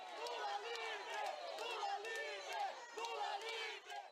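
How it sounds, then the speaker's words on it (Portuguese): A large crowd gathers at a cemetery awaiting an ex-president, a dense roar of many voices shouting and chanting together, continuous and fairly near. "uma multidão o esperava"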